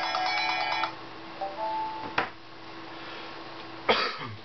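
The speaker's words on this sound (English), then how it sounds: "Getting a phone call while doing the video." A mobile phone rings with an incoming call, its tone clear and close at the start, then breaks off, followed by a sharp click, low rumbling handling noise and a throat-clearing cough.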